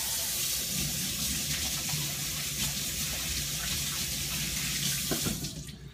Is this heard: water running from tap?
yes